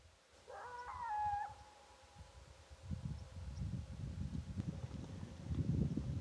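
A bull elk bugles at Sipe Wildlife Area, Arizona: a single high, rising whistle-like call with a reedy, harmonic tone rings out early, followed by a steady rustling outdoor background.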